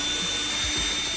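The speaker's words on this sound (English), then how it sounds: "I'm going to use my cordless drill" Cordless drill backing screws out of an Arcade1up cabinet control panel, a short steady whir at close range with a brief dip in pitch midway.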